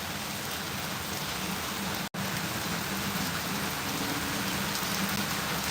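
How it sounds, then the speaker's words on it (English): Heavy rain pours onto a roof in Toronto, a dense, steady hiss of drumming drops that holds unbroken for several seconds, alone with no voices. "Had like 3 days of rain, of like crazy, not very Toronto-like rain."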